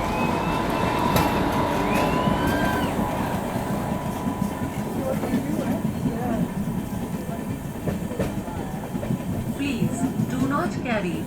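The Howrah to Delhi Amrit Bharat Express runs through the Dhanbad Junction yard with a loud, continuous rumble and clatter of wheels on rails, plus faint squeals and hums, heard from inside the moving train.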